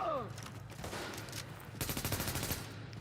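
Rapid bursts of automatic gunfire in The Division, a third-person shooter, crackling in dense volleys over a busy combat mix, heaviest in the final second.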